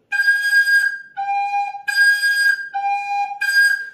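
Recorder (flauta doce) holds a high G note in four separate sustained blows with short breaks between them, clear and close, with no voice over it.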